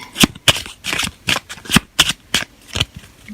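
A deck of tarot cards being shuffled by hand in a series of about ten crisp, papery riffles in a steady rhythm, close and clear with no talking.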